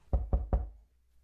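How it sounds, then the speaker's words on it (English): Three quick, evenly spaced knocks on a wooden shed door in a text adventure game, dull and close, followed by quiet. "Knock."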